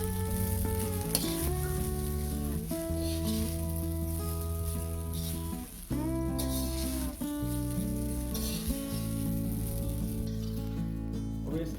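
Chicken fried rice with soy sauce stir-fries in a pan with a continuous sizzle and stirring, partly masked by loud tonal background music playing throughout.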